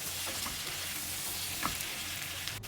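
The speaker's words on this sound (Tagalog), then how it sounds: "after ng 2 minuto paggigisa ay nilagay ko na rin tong hipon" Shrimp sauté in a pan with onion, garlic and tomato, a steady close sizzle and crackle of frying with faint stirring, no talk.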